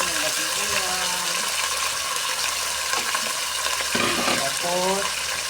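Chicken adobo sizzles and fries steadily in a pan, with a stirring scrape and faint liquid bubbling running throughout, while a voice talks intermittently over the cooking.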